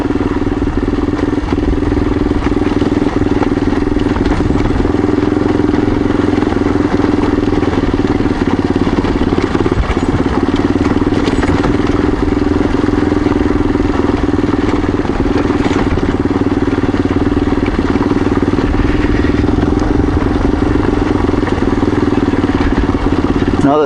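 Light motorcycle riding on a dirt cell tower road, its engine droning steadily under constant loud wind rush and rattling clatter from the rough surface, continuous and close.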